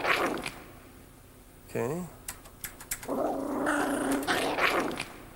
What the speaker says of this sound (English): Here is a poodle, a toy poodle, the original pitch.